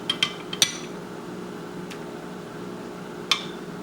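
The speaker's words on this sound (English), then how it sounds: "With a spoon, just remove all the whole spices." A metal spoon clinks a few times against a cup of warm syrup while whole spices are lifted out, with sharp taps clustered at the start and one more near the end, fairly close and quiet.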